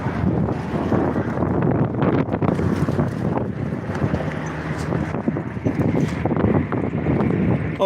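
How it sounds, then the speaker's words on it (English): Strong wind buffets outdoors around a vehicle, a steady roaring rush with gusty surges and microphone rumble, loud and continuous with no talk. "Hear that wind?"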